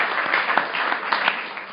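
Audience applause for a contestant on a panel game show at a 2013 enterprise collaboration conference: steady, dense clapping from a sizeable crowd that holds at an even level throughout.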